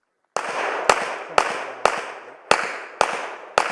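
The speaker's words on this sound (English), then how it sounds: "Taking those shoulder guys very quickly in only 3 shots from a decent distance" Gunshots at a practical shooting section match, seven sharp loud reports in a fairly steady rapid rhythm, each with a ringing outdoor decay, close to the shooter and with no talk.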